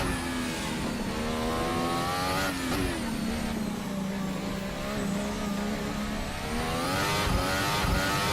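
A Formula Hybrid race car's engine at full power in a racing game, loud and steady throughout, with a sustained harmonic whine that rises, dips briefly and climbs again as it accelerates.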